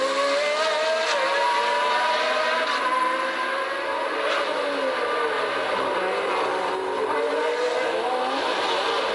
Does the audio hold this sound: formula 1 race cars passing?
yes